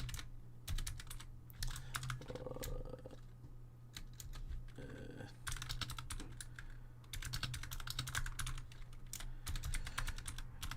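Rapid clicking keystrokes on a computer keyboard as a message is typed, coming in quick bursts separated by short pauses, close and fairly quiet over a low steady background hum.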